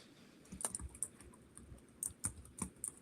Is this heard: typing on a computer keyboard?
yes